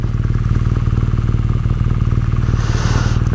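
A 2018 BMW R nineT Pure motorcycle engine idles close by, a loud, steady, throbbing boxer-twin beat echoing off nearby walls, with a brief hiss near the end.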